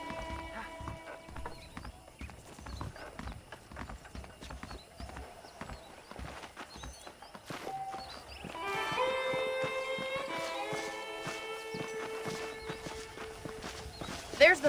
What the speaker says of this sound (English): I picked out a fine horse for you.